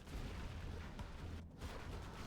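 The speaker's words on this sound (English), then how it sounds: "Gatling cannon" Gatling cannon fire in the Command & Conquer real-time strategy game, a dense, continuous rumbling barrage of rapid shots with booming low end that briefly dips in the middle.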